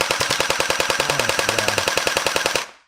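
A realistic-looking toy gun fires in a rapid, steady automatic burst, many sharp evenly spaced pops for nearly three seconds, loud and close before cutting off.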